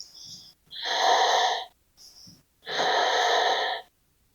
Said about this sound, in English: Big breath.